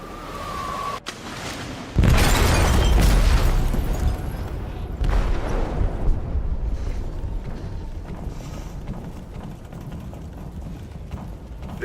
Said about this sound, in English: They detonated an explosive in the hold.